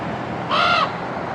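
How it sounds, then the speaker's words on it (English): A raven overhead near a Bass Pro store in Alaska gives a single loud, harsh croaking caw, close and clear over faint outdoor background. "this raven up here is yelling at us"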